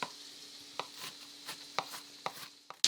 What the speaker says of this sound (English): then I cut it really, really tiny because onions